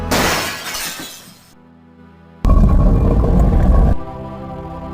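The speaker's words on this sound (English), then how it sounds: "Gabriel hears the faint sound of breaking glass" Glass shattering in the Gabriel Knight video game, a loud crashing burst followed by tonal game music and a second heavy noisy crash, no voices.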